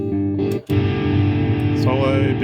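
Distorted electric guitar tone from a Neural DSP Quad Cortex, a sustained gritty chord ringing loud and close, broken by a brief cut and then picked up again.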